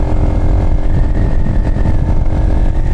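A motorcycle engine runs hard and loud while the bike is ridden, a continuous close rumble with a steady throaty drone and no talk over it.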